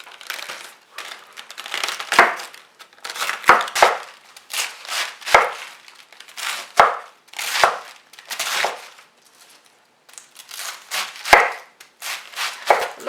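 A knife chops through a head of cabbage on a cutting board, slicing thin strips for a stew: a steady run of crisp, crunchy cuts with sharp blade taps on the board, close by and with no talking.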